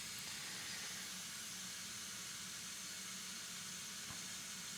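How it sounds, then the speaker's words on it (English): Steam heating hissing steadily in a quiet room, a faint constant airy rush with a low hum beneath, unbroken and even throughout with no voices. "just enjoy the sound of my steam heat as"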